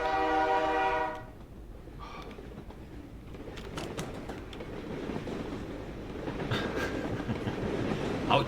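A train rumbles past a house in the video game Drug Dealer Simulator. A horn blast opens it, followed by a steady, close clattering roll of rail cars that swells slightly toward the end.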